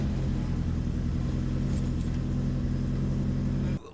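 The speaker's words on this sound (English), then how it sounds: "So he fires it up, and it sounded great." A 1969 Ford Cortina engine idles loud and close as a steady low rumble, then cuts off abruptly near the end.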